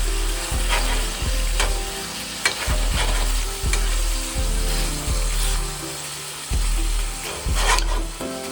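Seasoned shrimp sizzle and fry in a pan, with a steady crackle broken by repeated scraping and stirring strokes and occasional clatters of the utensil against the pan, and no voices.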